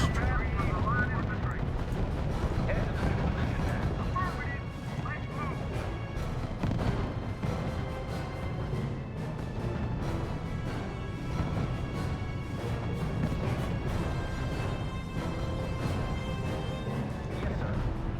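Heavy gunfire and booming artillery fire rumble continuously in R.U.S.E., with dense bursts of shots and deep blasts layered together, while a voice speaks over the battle.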